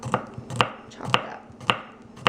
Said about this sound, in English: you're going to want to chop it finely